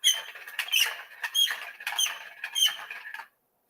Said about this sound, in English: Squeaky wheels.